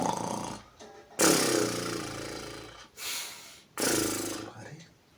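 A man imitates snoring through both nose and mouth, producing three loud rasping, snorting bursts separated by short quiet gaps, close to the listener.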